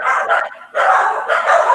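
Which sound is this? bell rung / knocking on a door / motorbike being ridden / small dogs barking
small dogs barking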